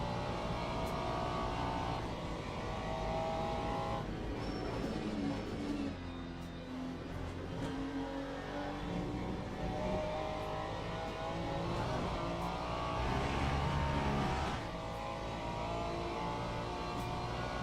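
Ferrari GT3 race car in a racing video game at Monza, its engine droning and revving continuously, rising and falling with shifts as it accelerates, loud and up front with no voices.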